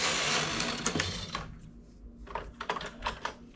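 A domestic knitting machine carriage is run across a row while buttonholes are made, giving a loud rushing mechanical whir that fades after a second and a half into a few scattered clicks and clacks.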